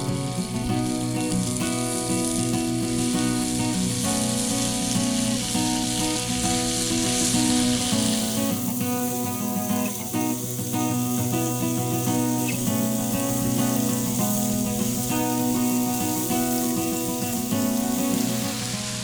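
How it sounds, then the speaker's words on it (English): Venison sausage and bacon fry on a Blackstone griddle with a loud, continuous sizzle and crackle, close and steady throughout, with a brief hiss shift partway. "I'm cooking all this up right now, and what I got is some venison sausage on the Blackstone"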